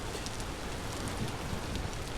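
Steady rainfall in the Vintage Story video game, a continuous even hiss of drops with no distinct pattern, moderately quiet and heard alone without voices.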